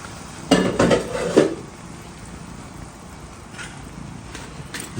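Shrimp and bitter melon are stirred into tomato sauce in a pan, a short burst of clattering utensil scrapes and clinks against the pan, followed by quieter occasional taps.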